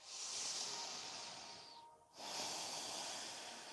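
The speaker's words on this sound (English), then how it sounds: "Inhale and exhale through your nose." Slow, steady breathing through the nose during a yoga session, a long breathy hiss in, a short pause, then a long hiss out, close and soft with no talking.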